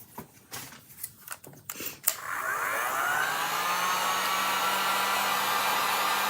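A hair dryer starts up after a few scattered clicks and handling knocks, then runs with a steady, loud whoosh, drying freshly applied chalk paint on a Christmas craft piece.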